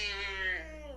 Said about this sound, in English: It sounded more like a cat to me